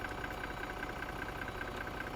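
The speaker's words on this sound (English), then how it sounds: "Listen to that engine." An Irisbus Familie bus in the OMSI 2 simulator sits idling, a steady, smooth mid-range engine drone with a faint rhythmic pulse, continuous and fairly quiet throughout with no talk over it.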